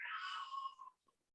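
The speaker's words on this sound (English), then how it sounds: "Sorry, my cat is whining in the background." A pet cat whining indoors, one drawn-out, wavering meow lasting under a second, fairly close, then a tiny faint squeak before quiet, with no talking.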